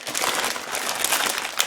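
A plastic bag of black licorice laces crinkles steadily as the laces are pulled out, a close, bright rustle lasting the whole moment with no voices.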